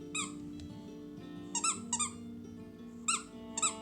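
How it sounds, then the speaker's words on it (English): A dog squeezes loud squeaky spider toys, giving several sharp high-pitched squeaks in short bursts of one or two over a steady low background hum, with no talking. "he loves to squeak those very loud, disruptive spiders"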